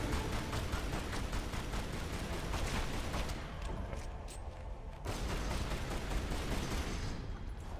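Sustained rapid gunfire from Lara's weapons in Tomb Raider Anniversary's Atlantis level, a dense continuous burst of loud shots running steadily for several seconds with no talk.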